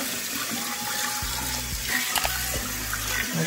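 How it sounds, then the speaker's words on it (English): A kitchen tap runs steadily while raw turkey is rinsed and handled under it for Caribbean jerk turkey, a continuous close splashing hiss broken by a few small thumps and sloshes, with no talking. "So you just keep washing and pulling it out."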